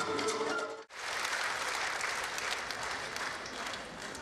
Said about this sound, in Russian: Полный зал зрителей не жалел аплодисментов.